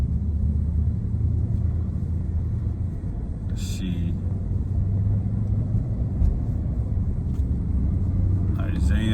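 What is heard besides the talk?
car traffic rumble heard from inside a car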